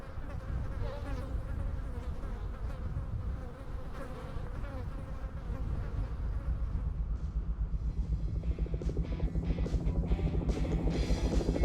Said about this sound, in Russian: Сэм с командой летят в вертолете